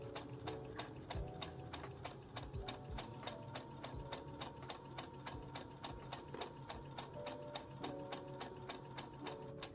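A sewing machine stitching scrunchies runs steadily and loud, its needle striking in a fast, even rhythm throughout with no talk over it.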